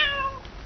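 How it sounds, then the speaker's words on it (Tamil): A single cat meows once, a clear, nasal cry that fades within half a second and leaves a little room tone, with no talking, in a Tamil comedy film scene. "இல்ல பூனை. பூனை. பூனை."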